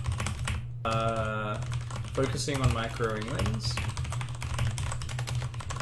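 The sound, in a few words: typing notes on a computer keyboard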